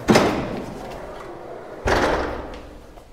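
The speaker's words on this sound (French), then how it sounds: "on voit la porte, cette double porte en bois" Heavy wooden double door, hard to open, thudding as it is pushed open, two separate loud knocks with short resonant tails, close by in a quiet space.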